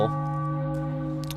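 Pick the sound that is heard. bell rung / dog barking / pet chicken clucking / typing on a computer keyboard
bell rung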